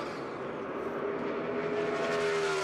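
Ryan Newman's NASCAR race car at wide-open throttle through turns 3 and 4 during 2015 qualifying, a loud, steady engine roar with a rising tone, heard alone throughout.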